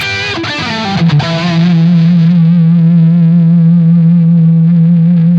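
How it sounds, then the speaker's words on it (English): Electric guitar played on the neck pickup around the 12th fret through a Blackstar St. James amp plugin. A couple of quick picked notes lead into one loud, close, sustained overdriven note that rings with a steady hum. "when I play on the plugin and I do neck pickup and around the 12th fret"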